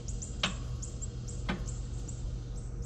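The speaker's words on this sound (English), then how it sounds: "sometimes it'll start and sometimes it just clicks" Two sharp, isolated clicks from a lawnmower's starter that fails to turn the engine over, about a second apart over a constant low background hum.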